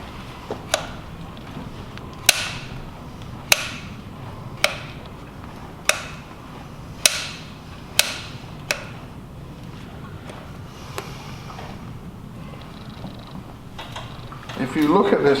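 Hoof nippers trim a horse's hoof wall in a series of sharp, crisp snips about a second apart, nearby and distinct over a low background murmur.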